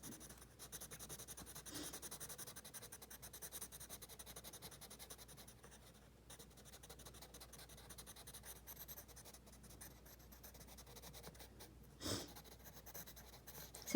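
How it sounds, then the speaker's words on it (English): A marker coloring in a hand-drawn bar graph, giving a steady, close scratchy rubbing of felt tip on paper that runs throughout with one brief louder stroke near the end. "And then I color it in."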